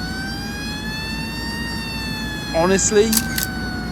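A fire engine siren in Cities Skylines II wails steadily with long gliding tones, while a voice breaks in briefly near the end over short horn-like blasts.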